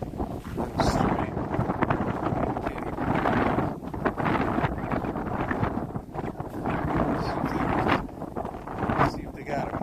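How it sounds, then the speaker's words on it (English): Wind buffeting a microphone beside a lake in early spring as the ice melts, a loud continuous rumbling roar with gusty surges throughout. "Hopefully it's not just blasting wind"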